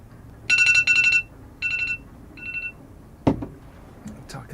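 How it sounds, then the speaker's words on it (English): A phone alarm rings in several short bursts of bright electronic tones, each burst a repeated chirping pattern, followed by a sharp click and faint room noise. "That was my alarm"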